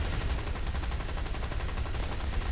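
Gunfire in the tank combat game War Thunder, a dense, continuous barrage of rapid shots and booming rumble with no break, loud and close, no voices.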